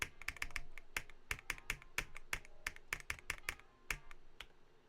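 Fingers type on an Attackshark R82HE keyboard with quick, sharp, close clacks in uneven bursts and short pauses, with no voices.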